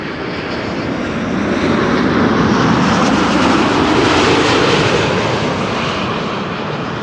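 An airliner arriving at Amsterdam Schiphol Airport passes close by with a loud, broad jet roar that swells in the middle and eases off slightly toward the end, with no voices over it.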